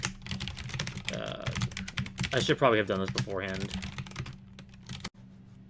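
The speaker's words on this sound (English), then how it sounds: "I was typing on my keyboard" A computer keyboard clatters with quick, uneven keystrokes close to the microphone while someone talks over the typing.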